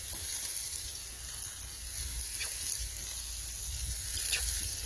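Burgers sizzle steadily on a Blackstone flat-top griddle outdoors, a continuous close frying hiss with occasional faint pops and no voices.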